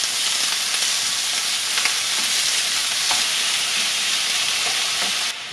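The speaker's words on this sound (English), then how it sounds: "Oil's all heated up, ready for the meat now. So I'm going to toss that in." Ground meat sizzling and crackling in hot oil in a pan, a steady dense hiss with scattered pops and scraping as it is broken apart, loud and close with no talking.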